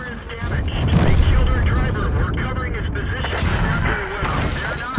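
Tank cannon shots in World of Tanks, heavy booming reports and rumbling blasts layered through the clip, with someone talking over the gunfire.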